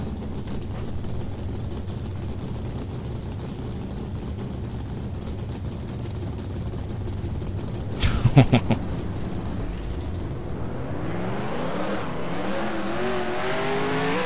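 Race car engines in NASCAR Racing 2003 at Texas, a steady low drone of many cars that breaks into a short burst of revving around the middle, then rising, sweeping engine tones as the field pulls away.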